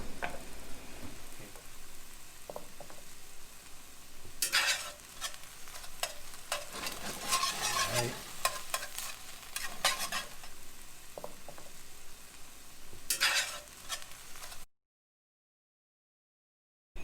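Chili ingredients fry in a pan, a steady sizzle under repeated scraping stirs, with louder bursts of stirring around the middle and near the end before the sound cuts out to silence.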